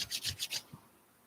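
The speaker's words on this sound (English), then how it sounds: "Rub your palm." Palms rubbed briskly together in four quick, close strokes, a dry rasping swish that then fades into quiet, with no talking.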